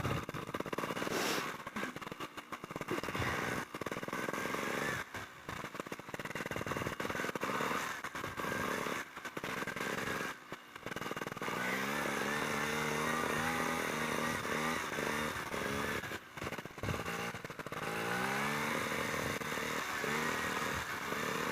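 A trials motorcycle picks its way over a rocky section, its engine revving in short bursts and blips with pauses between and occasional clatter as it climbs, fairly close, mostly on its own.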